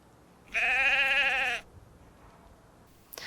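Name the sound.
sheep bleating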